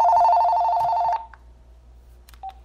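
A telephone rings with one steady, loud electronic tone lasting about a second. It cuts off, and after a pause a short faint chirp follows.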